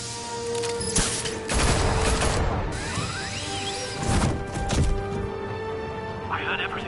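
Gunfire fills a scene in the Telltale Batman video game, with bursts of cracking shots, crashes and whooshes in several loud clusters among shouting voices.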